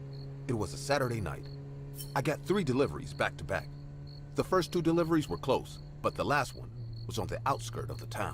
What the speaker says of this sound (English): I could hear the owls hooting and the crickets chirping in the distance.